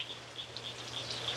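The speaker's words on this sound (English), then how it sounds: "And I just heard the frogs." Frogs call in short, regular chirping pulses during a hard rain, faint and steady beneath the constant patter and a low hum.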